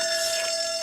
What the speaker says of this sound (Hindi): ये अलार्म कहाँ से बजा?